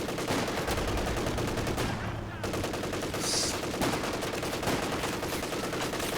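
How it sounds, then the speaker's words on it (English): Dense rifle and automatic gunfire from a British Tommy infantry squad in a Company of Heroes 2 4v4 battle, a continuous crackling barrage with overlapping shots that dips briefly before resuming at full loudness. "Only two members of that Tommy squad are actually firing"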